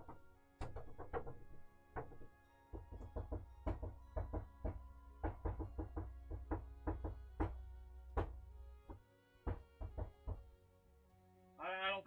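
Knocking on a door, a long irregular run of sharp, fairly close raps, some in quick clusters, with a voice breaking in near the end.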